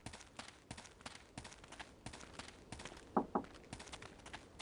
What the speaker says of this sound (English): You can hear footsteps even.